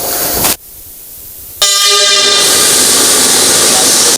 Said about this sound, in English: At exactly 8 o'clock in the morning, the train from Warri departs and arrives the Agbo station by 8:45 in the morning.